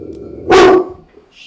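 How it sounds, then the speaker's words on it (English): A pet dog lets out one loud, sharp bark close by, standing out briefly against an otherwise quiet indoor room. "My dogs are going to bark."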